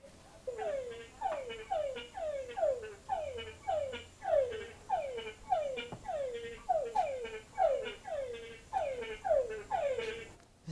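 Frogs calling in a regular rhythm, a series of about fifteen evenly spaced downward-sweeping croaks repeating roughly every 0.7 seconds, fairly close and clear over a quiet background.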